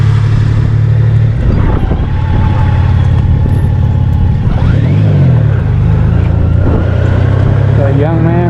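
A car drives along a campground road in Circleville, Utah, its engine a steady low rumble with shifting tones as it moves, close and continuous throughout.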